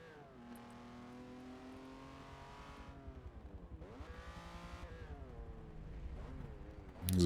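Race car engines in the Forza racing game on the Long Beach street circuit drone and shift pitch as cars accelerate and brake, a continuous layered whine that swells near the end.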